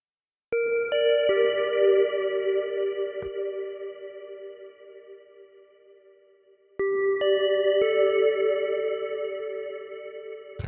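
Synth plucks in a future garage production, bright tonal notes with a chorus-like shimmer and long echoing tails, two sustained clusters of plucks separated by a decay.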